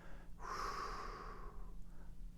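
A single slow, deliberate exhale during a 4-7-8 breathing exercise, a soft breathy rush lasting about a second and a half, close and quiet with no talk.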